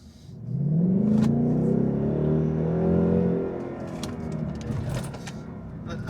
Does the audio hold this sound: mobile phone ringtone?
no